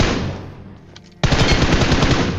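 Rapid automatic gunfire from teammates laying down covering fire in PUBG Mobile, a loud continuous burst that stops briefly and then resumes at full intensity with fast, even shots.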